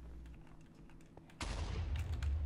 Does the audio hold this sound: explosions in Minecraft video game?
yes